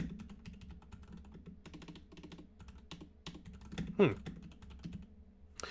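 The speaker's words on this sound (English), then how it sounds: "Sorry, I've been typing and replying to you" Rapid, uneven clatter of keys on a computer keyboard, typed in bursts with brief pauses, close and moderately loud, with one sharper knock near the end and a low room hum underneath.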